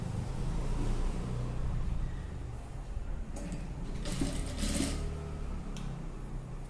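A sewing machine runs steadily while stitching a dress neckline, a continuous close mechanical whir with brief changes in pace as the fabric is turned.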